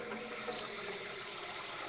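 Tap water running into a pot being filled with seven quarts gives a faint, steady rushing hiss that stays even and continuous throughout.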